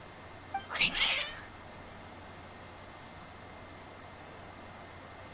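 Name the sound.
cats meowing in the video game Genshin Impact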